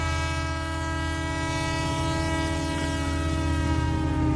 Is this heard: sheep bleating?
no